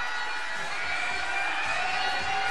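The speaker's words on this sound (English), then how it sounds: "And a boo from the crowd." A large indoor crowd at a women's handball World Championship match in Denmark, Germany versus Norway, gives a sustained, loud, dense roar of booing that fills the arena without pause.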